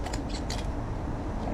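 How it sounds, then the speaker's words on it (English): Good kitchen shears snip through a chicken's backbone to spatchcock it, several short crisp cuts bunched near the start over a steady low kitchen hum. "we're gonna run around on the other side of it using some good kitchen shears"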